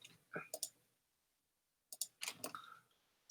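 Sharp computer mouse clicks come in two quick bursts, a pair and then a run of several, close and quiet with a silent gap between.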